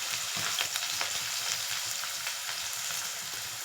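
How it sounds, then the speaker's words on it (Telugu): Onion, green chillies and curry leaves fry in a pan for an egg gravy curry, giving a steady, close sizzle with scattered crackles and pops and no talking. "అన్నీ వేసేసుకుని ఆనియన్ బాగా ఫ్రై చేసుకోవాలి"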